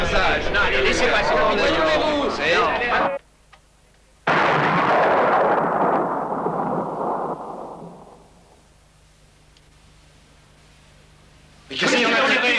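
In a Kennedy/Oswald film scene, agitated voices break off before a single loud gunshot bursts out close by and rings into a long, fading echo that dies away to near silence.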